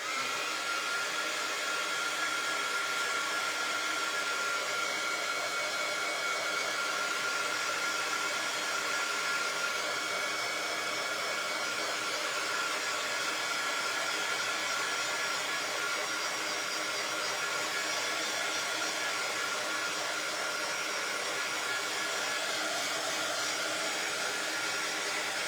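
A hair dryer blows steadily on the first coat of paint on a church-style birdhouse, a continuous close, loud whooshing drone that runs unbroken for the whole stretch with no talking.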